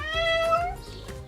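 A Bengal cat, the domestic and Asian leopard cat hybrid, gives one drawn-out, clear meow lasting about a second, close and loud, with soft low background noise underneath.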